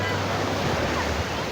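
Sea waves at Port Qasim beach in Karachi, a loud continuous wash of surf with wind buffeting the microphone, steady and close throughout.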